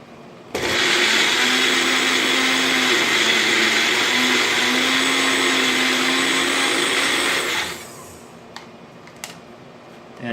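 A food processor blitzes pesto made with added oil, starting abruptly in a loud, steady whirring roar for about seven seconds before cutting out, followed by a few light clatters.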